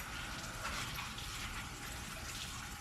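Tap water runs steadily in a sink while spinach is rinsed, a continuous soft gushing splash at moderate distance with no pauses.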